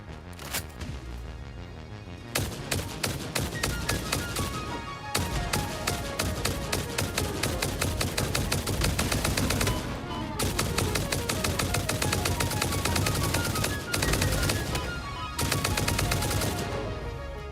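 Rapid weapon fire in the factory-building video game Satisfactory, dense repeated shots in sustained bursts with brief pauses, loud and close with no talk.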